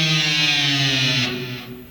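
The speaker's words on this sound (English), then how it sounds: "I'm hitting the open D string and bring it down" Electric guitar with heavy distortion, open D string struck while the whammy bar is pressed down, producing a sustained note that dives steadily in pitch over about two seconds, loud and alone.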